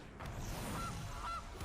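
A goose honk sound effect from the MTG Arena card game, two short nasal honks heard alone over a steady game background hum.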